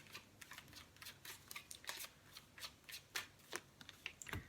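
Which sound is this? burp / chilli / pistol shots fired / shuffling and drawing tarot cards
shuffling and drawing tarot cards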